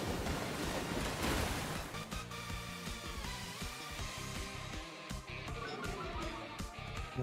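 A Muddy Water attack in a Pokémon battle game, a loud sustained rush of surging, wave-like water noise with scattered splashy hits, continuous throughout.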